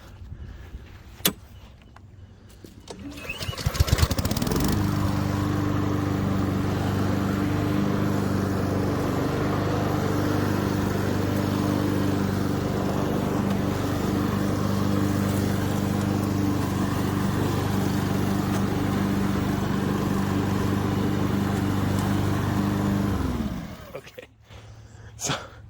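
A Honda HRN216VKAA lawn mower runs in mulch mode with its self-propelled smart drive, its engine starting up and then holding a loud, steady hum for about twenty seconds before cutting out.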